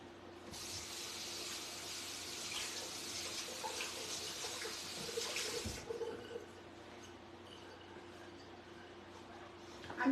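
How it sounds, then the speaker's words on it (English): Hands being washed under a running kitchen tap: a steady hiss of water hitting the sink for several seconds, then the flow stops and a quieter background hum remains. "Now I've got to get my hands washed."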